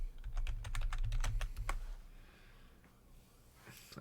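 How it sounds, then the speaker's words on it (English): Rapid clattering keystrokes on a computer keyboard, a quick burst of typing up close that trails off into quiet room noise. "I'm just typing but in chat yeah, real quick."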